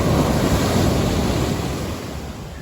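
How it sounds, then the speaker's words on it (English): Small ocean waves break right on the sand on an overcast morning beside a jetty, giving a continuous loud wash of surf with some wind rumble and no voices. "the waves break right on the sand"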